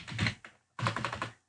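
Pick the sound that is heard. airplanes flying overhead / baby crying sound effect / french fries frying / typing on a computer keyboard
typing on a computer keyboard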